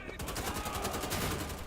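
Rapid automatic gunfire in the shooter Wolfenstein: The Old Blood, a fast regular rattle of shots that is steady and fairly faint, with a voice talking over it.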